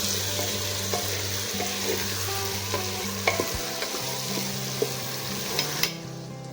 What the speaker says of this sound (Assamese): খুব ভালদৰে মই এতিয়া এইখিনি ফ্ৰাই কৰিম